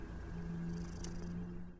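A cat purrs close by in a steady low rumble lasting under two seconds, continuous and unbroken with no talking over it.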